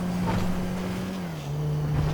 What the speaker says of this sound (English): My car is officially started to make some weird noises.